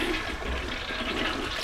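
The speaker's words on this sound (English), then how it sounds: "let's go and give it a quick flush" A toilet flushes in a home bathroom, a brief close rush of swirling water that stays loud and steady throughout, with no talking.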